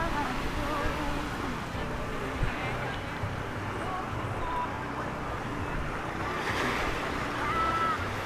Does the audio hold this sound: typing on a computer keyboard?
no